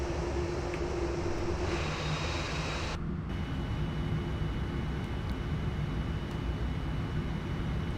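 A Qantas Boeing 787 in the Prepar3D v5 flight simulator spools up for takeoff at Perth, with a steady, broad engine roar and low rumble that stays constant throughout, without voices.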